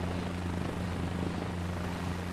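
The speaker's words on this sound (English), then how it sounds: "having to taxi with helicopters is getting old real fast" A helicopter taxiing on the ground in Microsoft Flight Simulator 2024 gives a steady, close, droning rotor and engine hum that holds constant throughout, with no voices.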